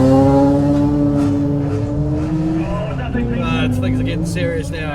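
A Mazda RX3 rally car drives the Otago Rally 2019 super special stage, its engine rising in a loud, close wail before dropping back through a gear change, with a voice talking over the engine.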